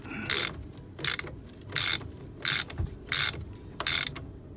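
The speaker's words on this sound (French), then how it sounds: "ça va plus vite à la clé" A ratchet wrench clicks in six quick bursts as it tightens the bell screws on a Yanmar SD20 saildrive, each close and crisp burst separated by short pauses.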